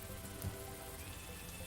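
Steady rain in a video game, a dense, even hiss of falling drops with no talking, faint and constant throughout.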